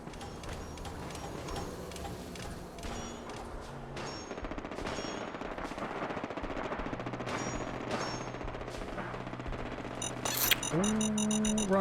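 Sustained hip-fired automatic gunfire in Fallout 4 on PC, dense rapid shots rattling on almost without pause, ending in chiming game tones.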